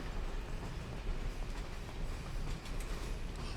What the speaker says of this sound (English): Oh! This is a train station!